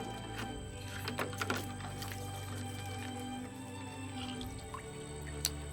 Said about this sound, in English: Let me grab some water here so I can rinse these off.